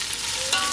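Onions for biryani fry in a pan, giving a brief hissing sizzle with a quick scrape of stirring near the end.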